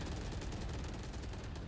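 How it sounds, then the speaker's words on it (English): Rapid gunfire from the video game Valorant during a DRX vs ZETA match, dense overlapping shots in a steady, loud stream. "Plenty of shots flying."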